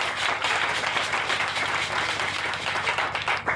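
A church congregation claps loudly and steadily to acclaim Jesus during a worship service, a dense continuous wash of many hands filling the room.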